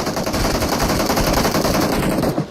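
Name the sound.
gunfire from PUBG Mobile video game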